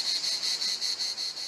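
Cicadas in a Ceven-side Ardèche village, Chambonas, keep up a steady, loud high-pitched buzzing drone that pulses gently in rhythm, with no other sounds around it.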